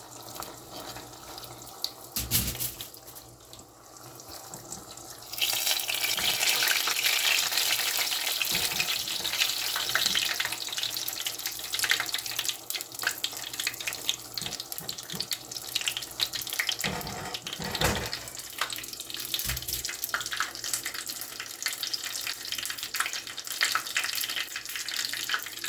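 Homemade shrimp rolls fry in hot oil with a steady, loud sizzle that jumps up after a few quieter seconds of kitchen noise and keeps crackling throughout.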